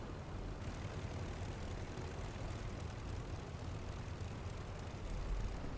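A WWI-era aircraft engine drones on landing approach toward a dirt strip in the IL-2 combat flight game, a steady, faint propeller rumble with wind noise, no talk.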